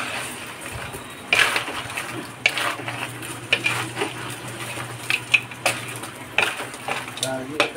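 A crab dish in coconut milk with string beans and squash, seasoned with salt and pepper, gets stirred in a metal pot, with loud irregular scrapes and clanks of a spoon over a low simmering hiss.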